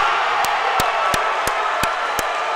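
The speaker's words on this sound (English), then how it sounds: "This crowd is going nuts." A high school wrestling crowd roars after a pin, a dense, loud wash of cheering and shouting, punctuated by a regular series of sharp claps or thumps every third of a second.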